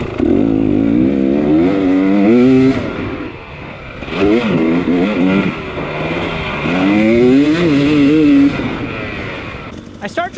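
Dirt bike engine during a hard enduro race, revving hard in repeated surges with rising and falling pitch, loud and close, easing off briefly between bursts before pulling again.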